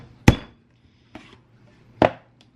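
Sweet potato pressed through a French fry cutter: two sharp, loud chopping thuds and two softer ones, each a quick crunch separated by near silence.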